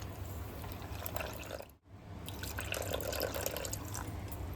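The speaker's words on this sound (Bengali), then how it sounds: "এবার এখানে অল্প অল্প করে জল দেব।" Water trickling little by little into a bowl of semolina and flattened rice, a soft dripping, splashing pour that runs steadily with one brief pause, close and moderately quiet.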